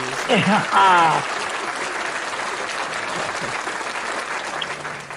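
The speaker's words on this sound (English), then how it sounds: "I was actually looking for the hand clap." A prerecorded applause sound effect played during a live poetry broadcast: a burst of applause rises over a short voiced sound, then settles into steady, sustained clapping that fills the rest of the stretch.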